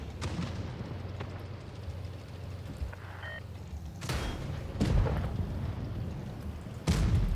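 Tank cannon fire and explosions in the World of Tanks Blitz video game, with several heavy booms spaced seconds apart over a continuous rumbling battle din.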